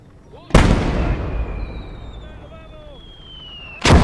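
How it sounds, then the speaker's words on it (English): Mortar fire in the World War II game Gates of Hell: two loud, close blasts, the first followed by a long rumbling decay with a whistling tone, the second cutting in at the end. "there's still mortar fire"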